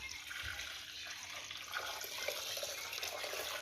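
Hot water poured steadily into coconut milk, a continuous close splashing, gurgling stream that holds without pause and with no voices.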